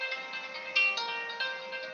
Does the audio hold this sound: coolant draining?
no